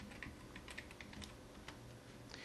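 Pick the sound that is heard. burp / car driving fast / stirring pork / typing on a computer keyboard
typing on a computer keyboard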